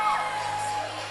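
A crowd at a high school cheerleading championship cheers and whoops in a loud, steady wash of voices that fills the whole moment.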